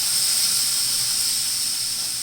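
Potatoes sizzling in a hot pan at breakfast time, a steady close frying hiss that holds evenly throughout with no talking.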